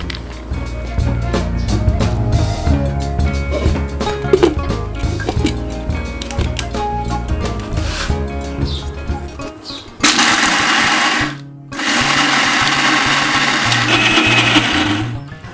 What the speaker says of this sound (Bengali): এখন পানি ঝরিয়ে ব্লেন্ডার করে নেব।